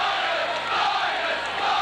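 Steady broadband crowd murmur fills a rugby league ground for Leeds v Oldham, a continuous wash of many voices with no distinct shouts or surges, even and fairly loud throughout.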